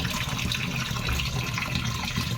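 Water pouring steadily from a geyser tap in a home bathroom, a constant hissing splash that stays close and even from start to finish, with no speech over it.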